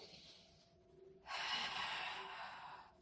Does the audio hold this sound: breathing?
yes